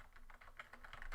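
Fast keystrokes on a computer keyboard entering a video title, a steady run of close, crisp clicks at an even pace with no talking.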